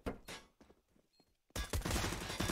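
Rapid burst gunfire erupts in a Counter-Strike match on the Cache map, loud and dense after a quieter stretch of scattered smaller shots, with the shooting continuing steadily to the end.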